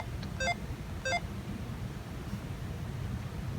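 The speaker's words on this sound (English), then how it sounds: "I don't know if the beeping is to let me know that there's a battery problem." A Zelda Game and Watch handheld gives two short, thin electronic beeps about half a second apart. They sound faint over steady hiss and low rumble, and a third tiny blip follows.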